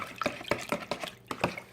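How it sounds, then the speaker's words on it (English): Wet ingredients for a chocolate cake being mixed in a bowl, giving a quiet, steady run of wet sloshing and stirring strokes with a rhythmic swish about every quarter second. "And mix all the wet ingredients together."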